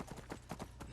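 Hooves of a horse being ridden in Skyrim clip-clop in a quick, regular gait, each footfall a distinct thud close by over a low background.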